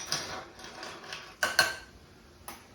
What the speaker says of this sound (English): Now we're going to stir for 30 seconds